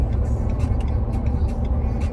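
Steady low rumble of a truck cruising on the road in Georgia, a continuous engine and road drone heard from inside the cab with no talking.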